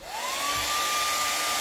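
A hand-held dryer blows on wet paint of a spring cardinal painting, a steady close rushing hiss with a motor whine that rises in pitch as it starts, then holds level.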